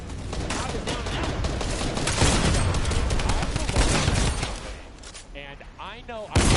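Dense Fortnite gunfire rattles continuously as a rapid, loud volley, then thins out near the end while a voice talks briefly over it.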